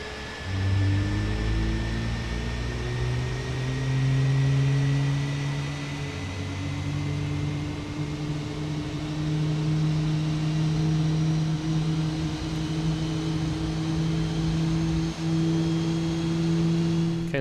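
Jet airliner engine number one starting up in a flight simulator, a low rising whine and rumble that climbs steadily in pitch as it spools, with a faint high tone above, continuous and loud with no talking.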